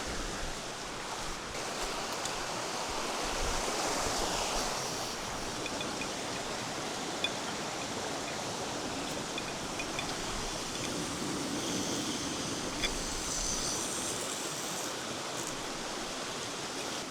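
A camp stove on a hiking trip near Cedar Lake, Montana heats water toward a boil, a steady broad roaring hiss of flame and heating water that holds constant and close throughout, with no talking.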